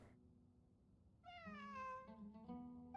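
Cat in Genshin Impact, a quiet background hum, then a single drawn-out meow that rises and falls, followed by a shorter trailing mew, faint and alone without speech.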